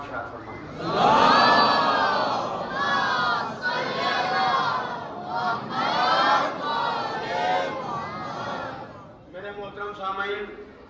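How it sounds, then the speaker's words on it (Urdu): A mosque congregation at a Muharram majlis in an imambargah loudly chants salawat in unison, a massed wall of voices rising and falling in several waves before a thinner, quieter response at the end. "مل جل کے باواز بلند نعرہ صلوات ارشاد فرمائیں"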